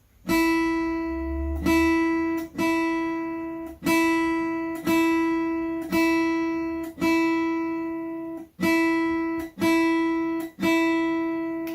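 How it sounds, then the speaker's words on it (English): A guitar's high E string plucked repeatedly, about ten even strokes, each ringing clearly and fading before the next. "So your high E sounds like this."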